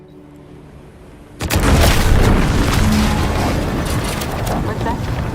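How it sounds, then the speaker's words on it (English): A sudden loud boom from an explosion in the video game Outer Worlds 2 breaks a quiet stretch. It gives way to a dense, sustained roar of rumbling debris that stays loud to the end. "What's that? An explosion?"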